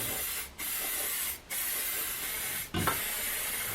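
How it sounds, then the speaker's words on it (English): Aerosol paint can, heated beside a stove, sprays in three long hissing bursts separated by brief pauses, close and loud, with a small clack as the last burst starts. "I'm going to do the right thing, spray it now"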